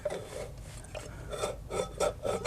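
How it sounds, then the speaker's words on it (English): Rubbing scrape inside a 1930 Briggs FH engine under restoration, a raspy rasp repeating in bursts roughly every half second as the part turns, close and moderately loud with no talk. "Oh, I hear a tiny little rub."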